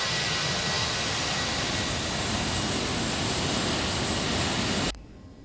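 Airbus 319 engines in the X-Plane 11 flight simulator, a loud steady jet roar and rumble that holds for about five seconds, then cuts off abruptly to near quiet, with no talk.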